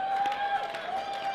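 Crowd at an indoor independent women's wrestling show, a rhythmic chanting and cheering roar from many voices, loud and steady, with a sustained whistle-like tone over it.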